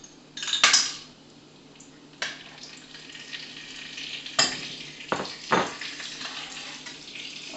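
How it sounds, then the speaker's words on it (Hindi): Cumin and asafoetida sizzle in desi ghee in a pan, with a metal spoon clanking and scraping against it in several sharp strokes over a steady, soft frying hiss. "देसी घी डल गया और अब इसमें डालेंगे थोड़ा सा जीरा और थोड़ी सी हींग"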